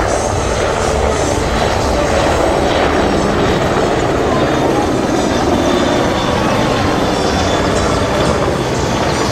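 A Merlin HM1 anti-submarine helicopter flies over an airshow, giving a loud, dense, continuous roar of engines and big rotor blades that holds steady throughout, with no talk.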